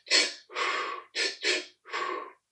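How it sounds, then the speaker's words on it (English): Powerful breathing exercise done through the mouth: a sharp forceful inhale, a longer breath, two more quick sharp inhales, then a long exhale, close and breathy with no talking. "what I want everybody to do is to inhale, inhale again powerfully,"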